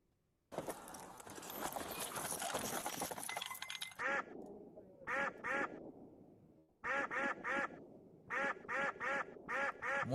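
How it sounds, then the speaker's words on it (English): Cartoon duck quacks dubbed over gunfire, arriving in quick clustered bursts of two to four loud quacks after a stretch of dense noisy crackle. "he puts the quack sound, just so that he can stay monetized"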